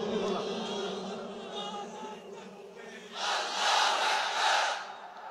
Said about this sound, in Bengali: জোরে বলেন লিল্লাহে তাকবীর।